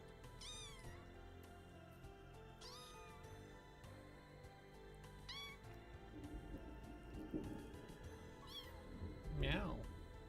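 A cat meows repeatedly, with several rising and falling calls spaced a few seconds apart, heard up close over a steady background hum.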